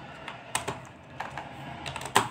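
Quick bursts of keystrokes on a computer keyboard while code is entered, a few separate taps and short runs of clicks, close and clear with no talking.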